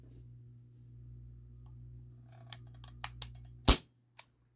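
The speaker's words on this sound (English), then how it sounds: "First shot, fresh CO2 cartridge." A Ruger P345 CO2 airsoft pistol firing 0.20 gram BBs from a fresh CO2 cartridge, one loud sharp crack after a few faint clicks, followed by a quieter tick, close up over a low steady hum.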